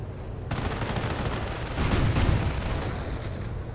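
Tank destroyer firing during a World War II real-time strategy battle, a dense rolling barrage of gunfire and booms with a heavier swell in the middle, loud and continuous with no voices.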